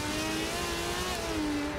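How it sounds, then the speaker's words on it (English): An Aston Martin GT race car at the Nurburgring during an endurance championship round, its engine droning loud and steady with a falling whine as it brakes hard into turn 1. "Heavy braking for the Aston Martin into turn 1."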